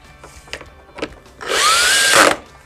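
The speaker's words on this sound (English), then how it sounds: "we'll go ahead and we'll screw it down" Power drill drives a screw into wood in one continuous whirring burst of about a second, loud and close, its pitch climbing as it works, after a few quieter knocks and taps.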